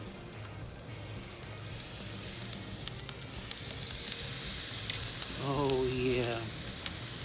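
A Texas-style tri-tip steak that has just been flipped sizzles on a Weber kettle grill, giving a steady close hiss and crackle. Someone briefly speaks over it.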